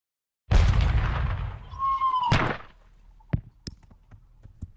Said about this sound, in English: our guns, what are these, 12 pounders, so they're heavy guns. Shooting 12 pounder shot.